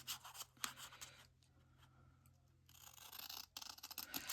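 Scissors snipping through a paper craft tag, close and crisp, with two bursts of cutting separated by a quieter pause; no voices.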